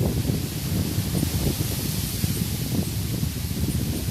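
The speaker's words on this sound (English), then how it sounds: "I'm just waiting again for the wind to just simmer just a little, because I want you to hear me loud and clear." Steady outdoor wind buffeting and rushing, a continuous broadband roar with low gusty rumble throughout, loud and close as if striking the microphone, with no voice heard.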